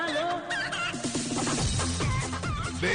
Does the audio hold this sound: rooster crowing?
yes